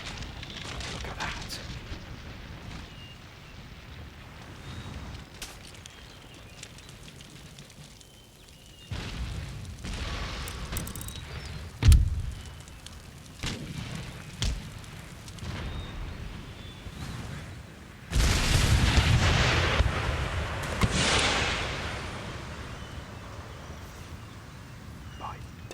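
Artillery cannons fire during a siege battle near Munich in Empire Total War, with scattered booms that build into heavier, louder volleys later on, under continuous commentary.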